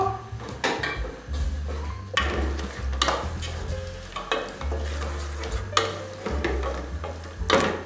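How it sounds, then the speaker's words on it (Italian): Onion fries in oil in a pan on a gas stove for a Sicilian potato gateau, with a steady sizzle under repeated close stirring and scraping clatter of a utensil against the pan. "Metto a soffriggere la cipolla, verso l'olio, accendo il gas, metto la cipolla, faccio cuocere un poco"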